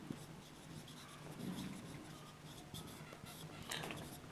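Handwriting on paper: faint, close scratching and rubbing strokes in short bursts, pen lifting and moving again, quiet throughout.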